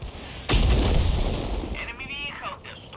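A leFH18B2 artillery gun in World of Tanks fires a shell with one sharp, heavy boom that rolls off into a long fading rumble, followed by faint mechanical clanks.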